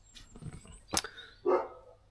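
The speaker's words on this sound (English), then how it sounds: "This dog, man. Echo, hey, shush." A dog named Echo barks indoors in a family house on a rainy weekend. A few quick yips are followed by one sharp, loud bark and then a longer, lower bark-growl, spaced apart over a quiet background.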